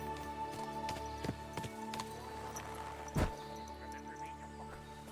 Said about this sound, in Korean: 사람 발소리 난다.